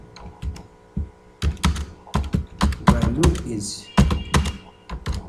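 Fast bursts of keystrokes on a computer keyboard while writing VB.NET code, close and clattery with uneven rhythm, under a voice speaking Hindi.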